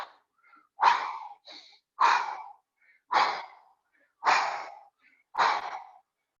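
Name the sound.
deep breathing during yoga exercise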